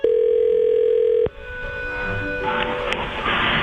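A telephone line tone on a call to a florist's shop holds loud and steady for just over a second, then cuts off into quiet line noise and faint background sound as the call connects.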